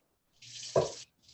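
A short burst of water from a tap poured in while mixing galette dough, a hissing splash lasting well under a second, close and fairly faint, with no talk.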